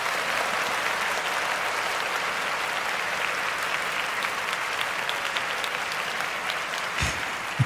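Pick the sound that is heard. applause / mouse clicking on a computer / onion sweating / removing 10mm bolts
applause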